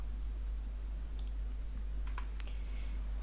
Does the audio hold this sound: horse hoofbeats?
no